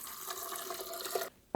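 About 250 ml of water poured from a tap for a corn bread recipe, a steady bright splashing stream that cuts off abruptly, followed by a short final splash.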